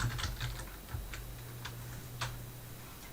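Someone types a login and password on a computer keyboard, a quiet run of irregular key clicks and taps spread over a few seconds, close up, with no talking.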